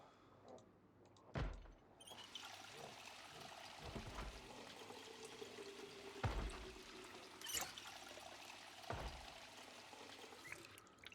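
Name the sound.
filling water bottles in the video game Project Zomboid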